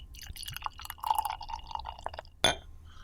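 Beer pours from a bottle into a glass, a gurgling liquid fill rising for a couple of seconds before a sharp clink near the end, close and moderately quiet.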